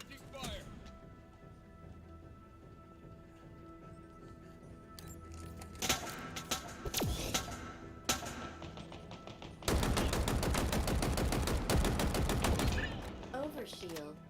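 Rapid automatic gunfire from the Halo Infinite shooter, with scattered bursts early on, then a loud, sustained stream of rattling shots in the closing seconds.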